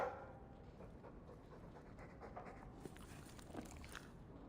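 Mabari war dog in Dragon Age II, heard as soft, steady panting with faint snuffles, close but quiet against a low background hiss, no talking.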